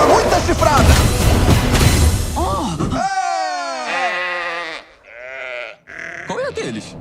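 Sheep bleat loudly in a film trailer for The Detective Sheep, several wavering cries following one another after a noisy, booming opening, with a voice speaking over the start.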